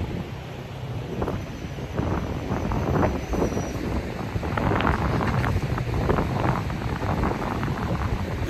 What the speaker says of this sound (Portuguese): Ih, cara, o vento aqui tá forte, eu vou perder meu boné aqui.